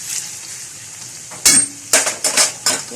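Food sizzles softly in a pan on a home stove, a faint steady hiss broken by several sharp scraping and clattering knocks of a utensil against the pan.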